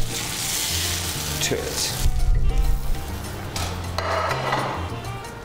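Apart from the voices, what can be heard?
oil and butter sizzling in a hot pan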